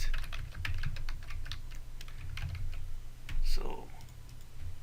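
Steady clatter of computer keys as someone types a WordPress post, rapid irregular clicks close to the mic, running under a man's occasional speech.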